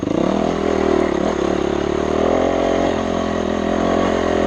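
A 4-stroke motocross bike engine on a trail ride runs steadily and loud at close range, with a constant droning note, slight throttle swells and mechanical clatter.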